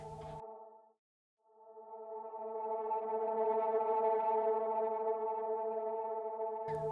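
A gritty synth drone on an A note, played higher up the range in Logic Pro X for ambient music, a buzzing harmonic tone that cuts out briefly, then swells back in and sustains.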